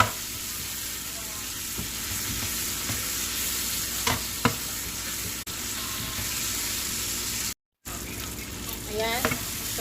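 Tomatoes stirred and cooked down in a pot for a Filipino sautéed sardine and mung bean dish, a steady close sizzle with repeated scraping and clinking of a spoon against the pot and occasional brief gaps.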